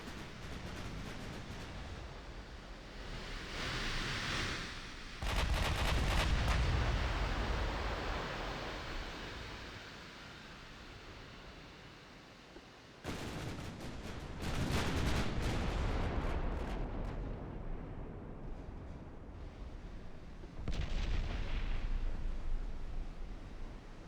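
Big naval guns firing in the warship game Ultimate Admiral Dreadnoughts: three separate heavy, booming salvos, each with a sharp onset and a long rumbling tail. The last salvo is quieter. No voices.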